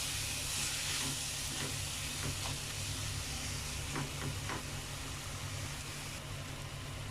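Chicken masala frying in hot oil in a pan, giving a steady, close hiss and sizzle with occasional faint clinks, and no voices.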